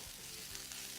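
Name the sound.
escarole being sautéed in a pan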